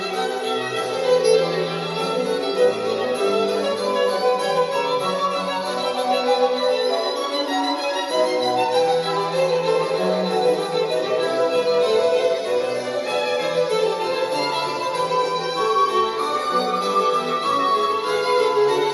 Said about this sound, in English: let's listen to some Sebastian Bach because that's the only thing that YouTube will let us listen to